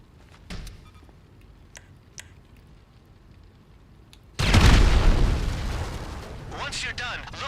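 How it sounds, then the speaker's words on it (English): Sticky bombs detonate in GTA Online with a sudden loud blast that keeps roaring and crackling for several seconds. A few faint clicks and game noises come before it. "We'll just stand over here until those explode"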